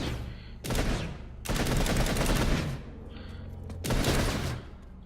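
Gauss rifle fire in the video game Planetside, in three loud bursts of rapid automatic shots separated by short pauses.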